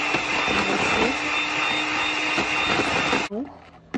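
An electric mixer whirs steadily at a high pitch while beating pumpkin cream roll batter, running loud and continuous before switching off abruptly near the end, with a voice talking over it.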